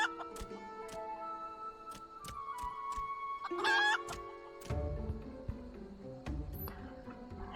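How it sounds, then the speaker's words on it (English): A chicken in Final Fantasy XIV clucks in short, sharp bursts alongside chiming game sound effects and music, fairly quiet, with no talk over it. "Fucking chicken."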